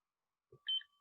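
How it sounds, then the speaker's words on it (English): A timer gives a single short electronic beep at its start, just after a soft low thump, in an otherwise quiet room. "I'm going to start my timer"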